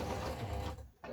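A sewing machine runs a quick straight stitch on a stocking lining, a fast, close mechanical whirr that cuts off briefly near the end before resuming.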